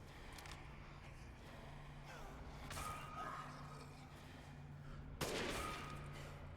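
Rifle gunshots fire in the video game Resident Evil Village, a few faint distant shots early on, then one sharp loud crack near the end over a low background hum.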